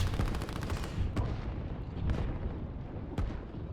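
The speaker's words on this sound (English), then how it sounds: "they have an artillery shooting at them" Artillery and gunfire crackle in the real-time strategy game Line War, a dense rolling barrage of shots and booms with a few sharper cracks standing out, loud and continuous, with no talk.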